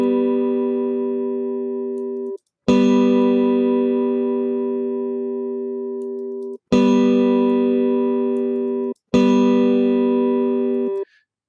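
An electric guitar is strummed four times, each chord ringing out and slowly decaying before the next, while the B string is adjusted between strums; the tone is sustained and slightly processed with no voices.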